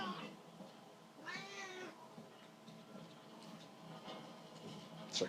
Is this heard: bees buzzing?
no